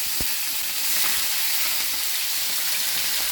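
Onion, capsicum and chili sizzling in hot oil in a home kitchen, a steady close bright frying hiss with a brief clatter at the start and no talking.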